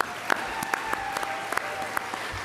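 An audience at an annual awards banquet gives a short burst of applause for the silver sponsors, scattered claps ringing out moderately loud with a few sharper individual claps.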